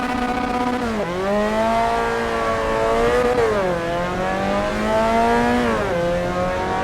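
A Mazda race car in a racing video game revs hard under throttle. The loud engine note climbs steadily, drops with each gear change and climbs again, repeating about three times, with no talk.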